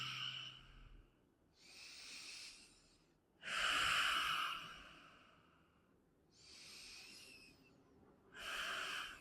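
Slow, deep breaths during a yoga pose, with audible airy inhales and exhales in long separate swells and quiet pauses between them, close and soft.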